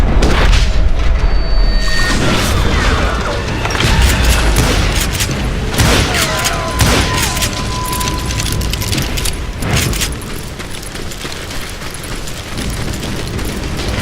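Gunfire and explosions from the Wild West shooter Call of Juarez Gunslinger, with dense booming blasts and rapid shots rolling continuously and loudly for the whole stretch, and no voices.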